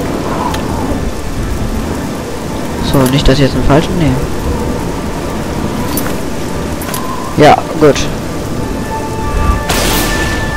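A thunderstorm in the Oblivion video game, with steady heavy rain and rolling thunder rumbles, loud and continuous while someone talks over it.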